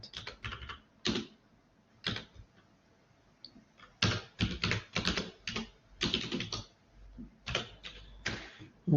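Hand typing on a computer keyboard: close, crisp key clicks in uneven bursts and flurries separated by short pauses, with no voices.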